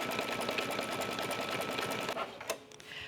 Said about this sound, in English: This step is now stitching the fabric and the batting down